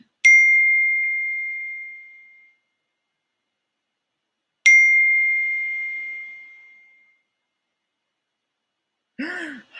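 A phone's text message notification chimes twice, each a bright clean ding ringing out and decaying over a couple of seconds, with a short sigh-like voice sound at the very end.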